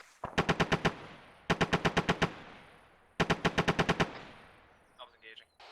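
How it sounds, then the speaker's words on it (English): Machine gun bursts ring out during outdoor squad training, three loud, close strings of about six to eight rapid rounds each, separated by short pauses, with faint voices briefly audible near the end. "Let that gun rip."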